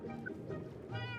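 A cat meows in Minecraft, a short game-style mew standing out over steady background noise and some talk.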